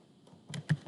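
A computer keyboard gives a few quick, close keystrokes: soft taps, then two or three sharper clicks in under a second, with no voices.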